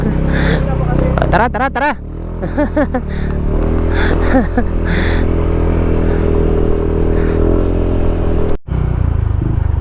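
A vehicle engine runs steadily with a low droning hum throughout, revving briefly early on, while people talk over it.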